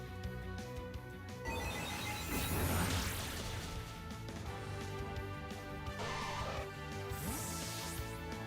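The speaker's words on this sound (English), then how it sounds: "My phones are ringing." Telephone ringing repeatedly in a steady electronic pattern, loud and continuous with crashing game noises layered underneath; no voices present.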